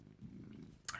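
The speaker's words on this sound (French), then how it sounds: "Oui, tu peux ronronner, pas de souci." Nougat the cat purring as a low, steady rumble through most of the second, followed by a brief brighter rustle or scratch near the end.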